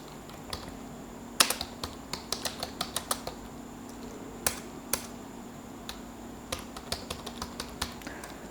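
Clicky keystrokes on a computer keyboard while a program is typed, coming in quick irregular bursts with short pauses, close and distinct over a faint steady hum.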